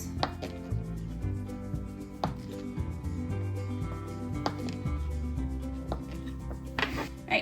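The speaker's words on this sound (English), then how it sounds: "That is why we are chopping up our butter right now." A knife chops butter for pumpkin dessert dough on a board, with repeated close thuds and scraping under a faint background hum, no voices.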